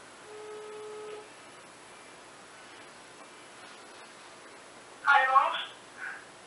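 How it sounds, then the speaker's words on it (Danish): A telephone ringing tone heard while calling someone, faint repeated tones early on with soft background hiss, followed by a brief burst of nearby talk. "Vi ringer sgu til de der drenge."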